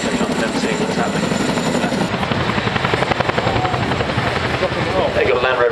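An aircraft, apparently a helicopter, flies at the Farnborough airshow in 2010, making a loud, steady roar with a fast rotor-like pulsing throughout, close by, with faint voices under it.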